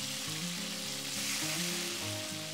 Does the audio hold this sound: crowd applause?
no